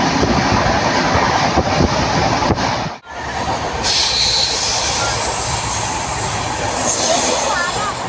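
A passenger train travelling toward Ernakulam in Kerala rolls along the rails with a loud, continuous rumble and clatter, wheels squealing, broken by one brief sharp drop in noise before the roar resumes.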